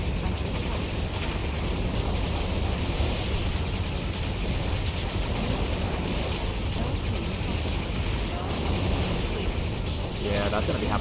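Continuous dense battle noise from the strategy game Warzone 2100, with enemy gunfire rattling and explosions rumbling in a loud, unbroken wash for the whole stretch.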